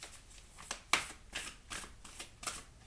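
Oracle cards are shuffled by hand in a series of quick, soft riffling bursts with a sharper snap near the start, close and fairly quiet, with no voices over them.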